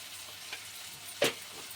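Salted tomatoes fry in a pan with a soft, steady sizzle and a couple of short scraping stirs, one sharper and louder than the other.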